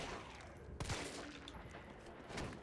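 Gunfire in the Resident Evil 3 Remake video game, a sharp shot ringing out once amid a steady bed of in-game ambience and effects.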